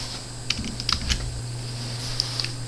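Someone taps out a command on a computer keyboard in a few quick clusters of sharp, close keystrokes over a steady low electrical hum.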